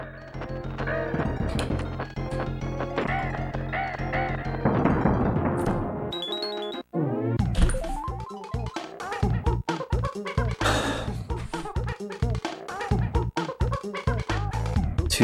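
Crows squawking in Donkey Kong Country 2, with repeated harsh bird calls over busy game music, cut by a short break near the middle and followed by clattering hits and effects.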